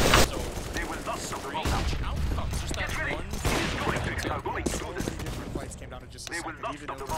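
Rapid AK-47 fire in a Counter-Strike match, dense overlapping bursts running throughout under mixed game noise and a commentator's voice.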